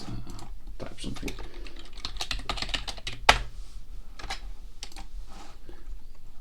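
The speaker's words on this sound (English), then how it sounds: "I should type something." Computer keyboard typing, a run of brisk key clicks with one sharp louder clack midway, continuing as a low steady clatter.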